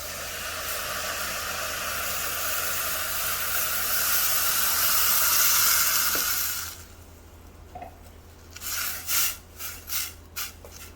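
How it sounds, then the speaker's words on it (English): Mushrooms simmering in vegetable stock make a loud, steady hiss of steam and bubbling that cuts off, followed by a few soft bursts of bubbling. "We're going to let the mushrooms cook in the vegetable stock."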